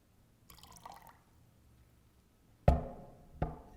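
During a Sunday church service water blessing ritual, a soft trickle of poured water starts first, then two sharp splashes land close by. No one speaks, and the rest is quiet.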